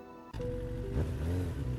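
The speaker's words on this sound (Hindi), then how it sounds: "अपनी बाइक स्टार्ट कर उस शॉर्टकट की तरफ निकल पड़ता है" A motorcycle engine catches abruptly and then revs steadily as the bike pulls away. The engine sound is loud and close, with a rising pitch near the end.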